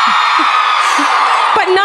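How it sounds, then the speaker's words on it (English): Live podcast audience at a true-crime comedy show screaming and whooping together, a loud sustained crowd roar filling the clip with a few brief shouts near the end. "Scream if you barely made it here tonight."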